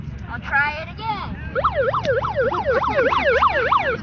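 Police car siren cycling in a rapid wail, loud and close, starting from about 1.5 seconds after a few rising whoops, over crowd noise at a street protest against corruption, with people talking throughout.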